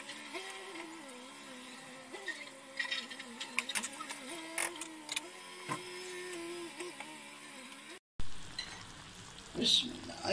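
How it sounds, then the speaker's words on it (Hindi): Carrots fry in a pan for a Kabuli pulao, crackling and spitting in irregular bursts with some stirring clicks. A low hum runs underneath, and the sound cuts out briefly before noisier handling takes over. "ये मेरे पास गाजरन है, इसको मैं फ्राई करूंगी"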